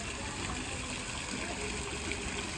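Water rushes steadily from an old burst pipe in a village, a constant broadband gush with no breaks.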